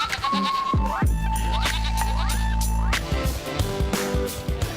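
Goats bleat loudly and repeatedly at a crowded livestock market ahead of Eid al-Adha, several close, wavering cries following one another with faint background bustle.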